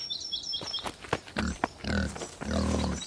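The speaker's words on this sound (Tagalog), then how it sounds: "Nandito na ang baboy!" A pig makes harsh grunts and a long, strained squeal at close range, after a high ringing tone at the start.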